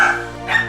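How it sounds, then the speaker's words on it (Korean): A dog named Ddube, a neighborhood nuisance barker, lets out a short, close and fairly loud bark that is slightly whiny and carries on for under a second. "이유 없이 온 동네 떠나가라 종일 짖어대는 민폐된 뚜베"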